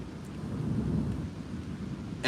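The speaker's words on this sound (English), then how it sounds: "That's thunder." Thunder rolls as a low, steady rumble that swells and fades over a couple of seconds, close and moderately loud, with no speech over it.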